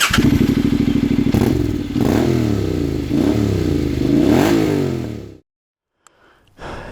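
A Suzuki V-Strom motorcycle heading out onto dirt trails throbs close by in a loud, pulsing engine note, revving a few times before it pulls away and the sound cuts off into near silence.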